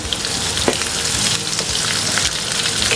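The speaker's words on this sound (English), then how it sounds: "Now I'll add the whole spices to the pan" Whole spices and sliced onion fry in a pan with a close, continuous crackling sizzle and a few soft stirring clicks, no voices.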